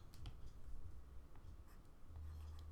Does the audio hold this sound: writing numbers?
yes